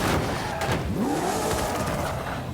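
A car engine in the Forza Horizon 5 racing game, a wedge-shaped car from a Fast & Furious pack: loud, close revving with sweeping pitch changes and a brief tire squeal, with no talk.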